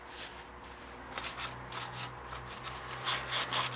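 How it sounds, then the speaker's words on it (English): Emery cloth rubbed against the inside of a bottle being sanded down by hand for stove construction, giving steady, close rasping strokes in a repeating rhythm with no voices. "piece of emery cloth on the inside and sand it down"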